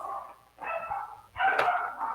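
Female dogs barking indoors in short overlapping bursts, fairly close, with whiny yelping tones and brief gaps between outbursts.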